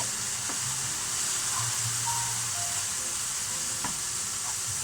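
Onion gravy with a splash of balsamic vinegar sizzling in a pan, a steady bright frying hiss with occasional faint clinks of a utensil, close and continuous with no talking.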